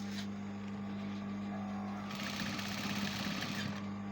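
A sewing machine stitches sleeve lining pieces together, running as a continuous close mechanical whir with a steady hum that grows brighter and busier partway through.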